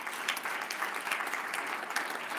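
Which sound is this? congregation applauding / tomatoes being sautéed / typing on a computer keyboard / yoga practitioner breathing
congregation applauding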